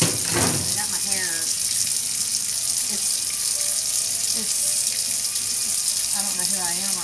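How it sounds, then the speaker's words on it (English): A kitchen tap runs steadily into a sink, filling it with soapy dish water, a constant close hiss and splash that lasts throughout, with faint voice-like sounds at moments underneath. "I'm going to fill this sink up with some soapy,"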